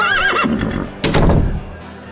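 A horse whinnies in a wavering, pitched call, followed by a louder, breathier neigh, close and clear with no talking over it.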